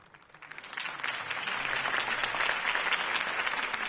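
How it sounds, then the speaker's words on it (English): Crowd applause after a campaign speech for Harvey Dent in Batman: The Telltale Series swells from scattered claps into a full, sustained ovation of many hands that holds steady to the end. "If only Mr. Wayne, my campaign's largest backer, could have heard that applause"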